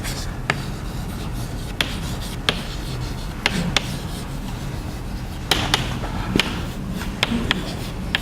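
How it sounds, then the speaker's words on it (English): Pen or marker strokes on paper or a board during a chemistry lecture, a steady low rubbing bed punctuated by sharp irregular taps and ticks, close and continuous with no talk. "we'll write this here"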